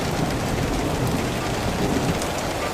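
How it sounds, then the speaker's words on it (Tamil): Heavy rain pours down during a storm, a dense, steady hiss of falling water that fills the scene evenly and loudly, with no voices. "பிறகு கொஞ்ச நேரத்துல கடுமையான மழையும் பெய்ய ஆரம்பிச்சது."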